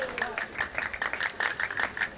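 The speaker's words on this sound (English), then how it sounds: "you can hear the Qatar people in the back cheering for Jassim" Spectators cheering and clapping for a bowler at a World Bowling Tour final in Malmö, Sweden, bursts of applause and shouts from a crowd at the back of a bowling hall, steady and lively, with a commentator talking over it.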